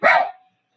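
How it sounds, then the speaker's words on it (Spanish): A single short dog bark, close and fairly loud, cutting off quickly into silence. "mi perro está ladrando"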